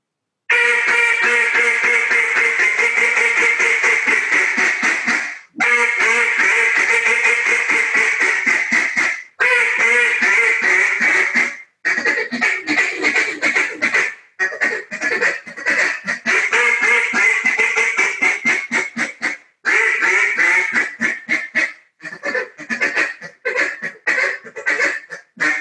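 A Jargon Game Calls duck call run through a long 'small talk' routine, up close and loud: dense strings of rapid reedy quacks and chatter, broken by short pauses between bursts, with the rhythm growing choppier toward the end.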